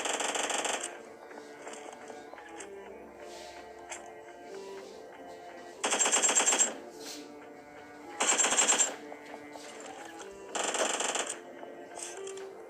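Uzi submachine gun fire in a video game bursts out in several loud, rapid rattling volleys about a second long, separated by quieter stretches of game background sound.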